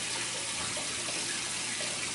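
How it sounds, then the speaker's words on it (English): Water pours steadily into a deep sump pump basin in a house, a constant broad rushing splash that stays even and close throughout. "Look, you hear all that water?"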